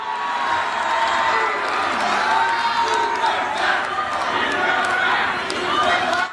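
A large crowd at a Donald Trump rally in Orlando, Florida screams and cheers continuously, a dense, loud wall of voices with scattered whoops and shouts.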